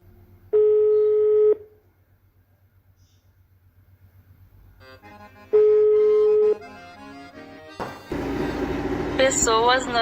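Telephone dialing: two long steady electronic tones about a second each, separated by quiet pulsing, followed by a burst of noisy sound, with no speech over the tones.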